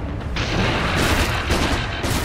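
Gyrocopter's flak cannon fires during a Dota 2 match, a dense barrage of rapid booming shots blending into a continuous loud fusillade amid other game effects.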